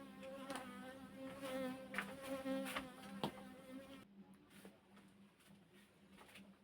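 Insistent buzzing of a bee loose in a room, a wavering drone that stays fairly close for about four seconds before dropping away, leaving faint room noise with scattered soft taps.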